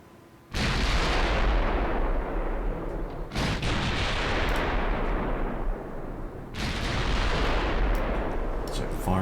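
Naval guns firing shells in the Ultimate Admiral Dreadnoughts game, three loud booming salvos, each followed by a long rumbling roar that runs into the next.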